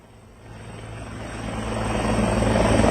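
A helicopter on a helipad winds up for takeoff, its steady rotor and engine roar swelling louder over the whole stretch with no voices.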